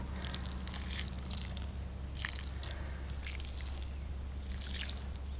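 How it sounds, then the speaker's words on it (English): Water trickles and drips from a container onto garden soil in intermittent bursts, close by, over a steady low background hum. "So I brought some water. I'm just gonna pour this in."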